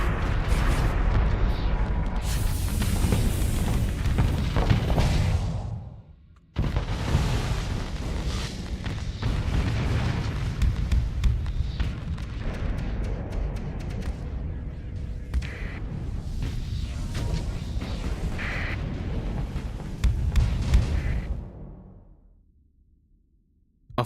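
A Fury spaceship in a video game explodes in a series of heavy booms and blasts, with a short pause before another long rumbling burst fades into silence.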